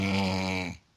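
A voice imitates the raspy snoring of someone with a breathing problem, producing one sustained, buzzing, droning breath that is near and fairly quiet before cutting off into silence.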